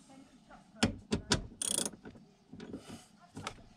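Ratchet and 14mm socket on an extension tightening a bolt on a Volvo P2-platform car during brake servo seal replacement, giving several sharp close metallic clicks and a brief rasping ratchet burst, with low background noise.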